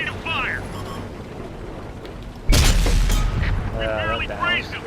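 A T110 E5 tank's main cannon fires in a video game, landing as one sudden loud blast that rolls into a long rumbling decay, with a voice talking both before and after the shot.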